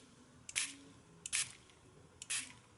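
A fine spray bottle mists a watercolor card with three short, quiet hissing puffs, each a fraction of a second, evenly spaced in a still room.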